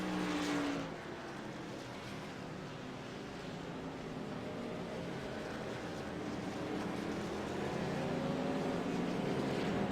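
Race cars run on track behind a pace car, a steady, moderately distant engine drone with a faint rising whine near the start and building slightly toward the end, no talk.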